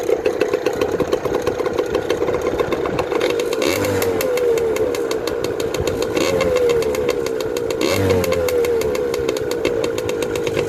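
A dirt bike engine runs steadily just after a leaky carburetor was repaired, with a loud, continuous mid-pitched drone and periodic throttle rises and falls around the midpoint and near the end.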